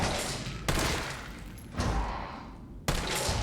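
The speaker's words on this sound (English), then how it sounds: "We're going to stay behind the tether and just snipe these guys with the assault rifle." Assault rifle fire in Resident Evil 3 Remake on PC, three sharp, loud single shots spaced about a second apart, each followed by a decaying reverberant tail.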